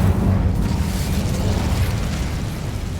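A fire spell cast in Hogwarts Legacy: a continuous low roaring burst of flame and rumble, loud and steady across the moment, with no talking over it.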